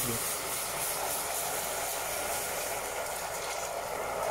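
Cream poured into hot salted caramel sauce sets off a loud, steady steaming hiss and sizzle that runs unbroken throughout, close by.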